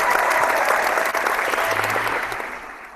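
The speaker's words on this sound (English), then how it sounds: "So let's give him a round of applause." A round of applause from a small group: steady close clapping that holds for a few seconds and then tapers slightly, with a faint voice underneath.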